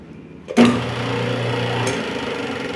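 An M300 electric cable stripping machine starts up abruptly after near silence, settling into a steady mechanical hum with a brief sharp knock partway through as it is adjusted.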